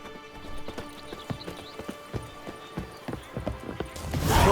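Hooves of the horse Roach in The Witcher 3 striking a steady, rhythmic clip-clop at a gallop, moderately close and alone, ending in a louder rushing swell.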